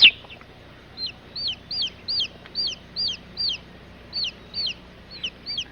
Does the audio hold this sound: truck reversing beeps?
no